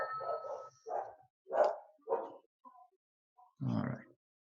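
A female dog barking excitedly indoors at a package delivered to the door, a series of about five short, clear barks and yips with brief pauses and a few soft whimpers between them.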